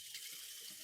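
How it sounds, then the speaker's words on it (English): A knife is rinsed under a running tap, with a brief, steady hiss of water splashing into a sink. It is fairly quiet, and no one talks over it. "I'll grab my knife over here. We'll give it a quick rinse."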